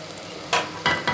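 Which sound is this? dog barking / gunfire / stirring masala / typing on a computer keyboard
stirring masala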